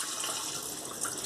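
Water pours out of a sprouting jar of overnight-soaked seeds in a continuous close splashing stream, fairly quiet and steady, with no one speaking over it.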